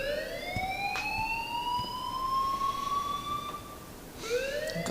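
Alarm blaring in the video game Life Is Strange: a loud, sustained siren-like wail that slowly rises in pitch, cuts off briefly and then starts again, with no voices.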